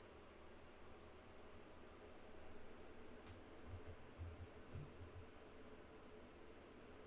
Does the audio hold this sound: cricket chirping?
yes